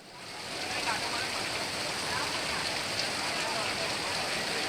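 Heavy rain pouring down at a cricket stadium before an IPL final, a dense, steady hiss of downpour that swells in quickly and stays loud and even throughout.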